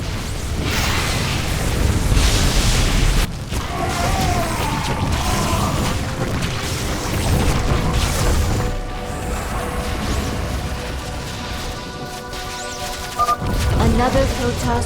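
Explosions and crashing destruction of a Protoss launch bay in StarCraft 2, dense bursts and mechanical clatter through most of the stretch, with voices talking over the battle noise.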